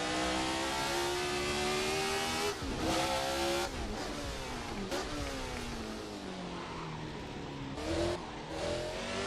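A 1970s Formula 1 car in Assetto Corsa, its loud high-revving engine dropping pitch through downshifts to first gear, with revs swooping up and down between shifts.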